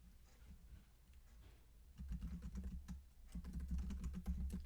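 Notes are typed on a computer keyboard in quick bursts of close, clicky keystrokes, lighter at first and then denser and louder after a short pause, with no speech.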